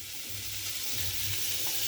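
A spoon stirs chili powder into a fish curry of sole and koi fish with potatoes, plantain and greens in a pan, a faint steady sizzle with soft scraping and bubbling underneath.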